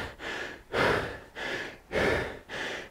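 Heavy breathing follows a hard indoor rowing workout: deep, rhythmic inhales and exhales repeating about every half second to second, close to the microphone and alone.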